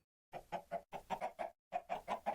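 Tier 1 chickens in the Minecraft modpack FTB StoneBlock 4 using Roost Ultimate: three short runs of soft, rhythmic clucks, each run made of several quick bursts, close and clear with silence around them.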